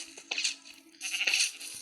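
Sheep penned in a Minecraft fenced enclosure bleat twice in quick succession, a pair of nasal, wavering digital baas, close and clear with no talk.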